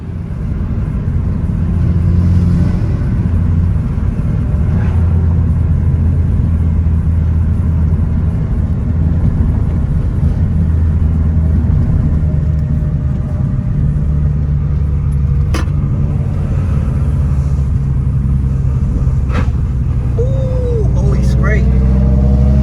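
A Ford Mustang Fox body being driven for drifting practice, with a loud, continuous engine rumble and revving close by that swells and holds, along with faint tire noise and occasional voices.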